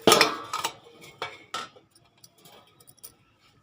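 A spoon clinks against a container while scooping asafoetida (hing) powder for fenugreek mango pickle: a few light metallic taps close by, loudest at the start, then fading into sparse faint ticks.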